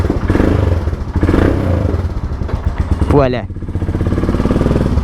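A Ducati motorcycle engine runs close by with a steady rumble, a sharp rising rev near the end, a voice speaking briefly over it.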